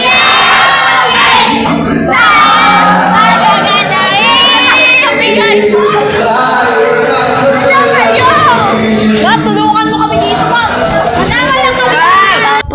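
Schoolchildren sing a song together in a school, a loud and dense chorus of young voices that carries on steadily throughout, with some shouting mixed in.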